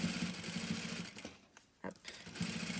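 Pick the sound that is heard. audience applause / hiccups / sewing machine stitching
sewing machine stitching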